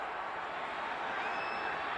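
A sellout stadium crowd of 60,000 at a 2012 college football game, K-State at West Virginia in Morgantown, as a steady, dense roar of distant voices filling the whole moment without pause.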